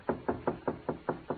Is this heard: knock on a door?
yes